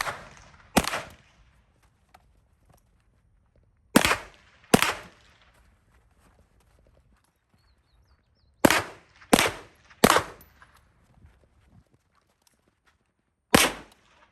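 Sharp, loud gunshots from a pistol-caliber carbine at an outdoor shooting range, fired singly and in quick pairs and triplets with short pauses between, each crack ringing briefly against a quiet background.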